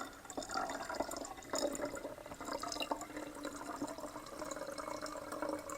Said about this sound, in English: add my hydrogen peroxide right there, and that's just about 1/3